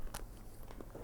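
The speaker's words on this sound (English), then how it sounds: "The crunch of the chocolate." Crunchy chocolate with nut butter bitten into, a few short crisp crunches spread across a moment of quiet close chewing, faint and near.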